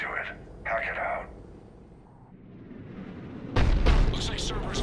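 Cannon fire in Mass Effect 3, a heavy booming blast arriving about three and a half seconds in, loud and broad, after quieter game sounds and short bursts of activity.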